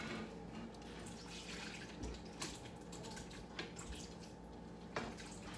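Browned lasagna meat strained through a strainer in a kitchen sink, with a steady wash of running, dripping liquid and a few soft knocks, quiet and continuous.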